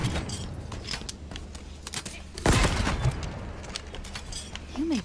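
The Mangler revolver in Halo Infinite fires a heavy, booming shot midway through, amid clattering mechanical clicks and scattered combat noise, with other sharp reports and a short tonal chirp near the end.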